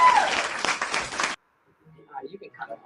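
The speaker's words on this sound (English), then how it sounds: "Get some hand claps." A short burst of hand claps from a small group in a radio show studio for about a second, then silence followed by faint voices talking.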